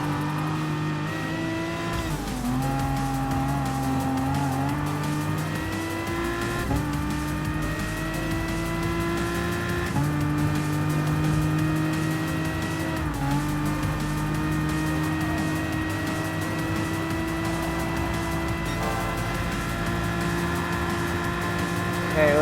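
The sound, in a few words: Aston Martin Vantage race car driving in Gran Turismo video game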